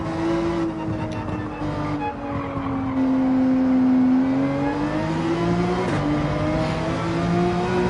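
Formula One car engine in a racing video game, a loud sustained high whine that rises and falls steadily with throttle and gear changes, with no voices over it.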